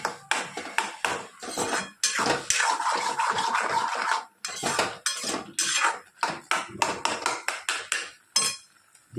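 Carrot halwa with ghee cooking in a pan over a low flame, heard as steady, irregular scraping and clinking of a spoon against the metal pan, close and fairly loud, with no talking.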